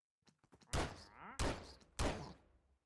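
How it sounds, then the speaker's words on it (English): Three sharp pistol shots from a Minecraft zombie mod ring out at a steady pace, each a loud thump with a short tail, with a few faint clicks before them and no talking. "So there's the pistol in action."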